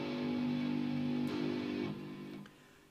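A seven-string guitar detuned to C sounds a single low G note that rings and sustains, then is damped and fades, played alone and fairly quietly.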